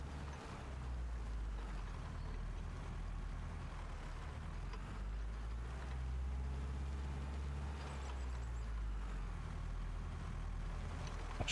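Small Deutz tractor in Farming Simulator 25 driving along, a steady low engine drone with rumbling, shifting texture, fairly quiet and continuous without speech.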